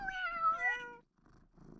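A cat meow sound effect triggered by clicking the Google cat paw icon, one clear drawn-out meow followed by a short break and soft low purring or rustling.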